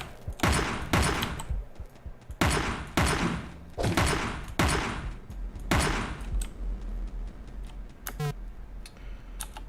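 Rifle shots from the video game Teleglitch ring out one after another, about five or six loud, sharp cracks spaced irregularly. Quieter clicks and a short rattle follow.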